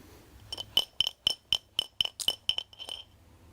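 About ten sharp metallic clinks in a quick, slightly uneven series, close and clear against near silence, as three coins are placed under a drinking glass in a close-up coin magic trick.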